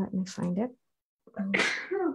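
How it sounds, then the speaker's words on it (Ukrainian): A person sneezes once, a sharp, close burst that follows a short stretch of talking after a brief pause, with the voice continuing around it. "хтось там чихає"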